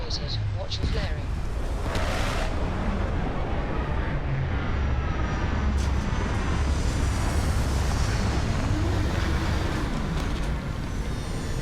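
Spaceship landing in a space-themed video game, a steady broadband roar like rushing wind and engine thrust that fills the whole stretch at constant loudness, with faint tonal whines sweeping through and speech under it.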